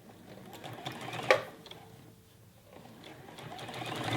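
A sewing machine runs a straight stitch through stretch knit fabric for a Jalie Nico raglan T-shirt, a steady rapid mechanical whir close by that dips briefly and then picks up again.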